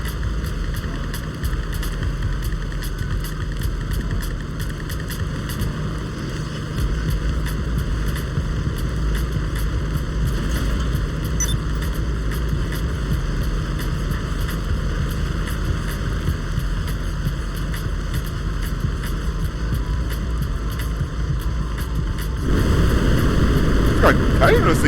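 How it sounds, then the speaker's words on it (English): A flying vehicle's thrusters in GTA 5 give a steady loud droning hum like an aircraft engine, constant for a long stretch and surging louder near the end, with players talking underneath. "I didn't know this thing had thrusters. Now we're in the air."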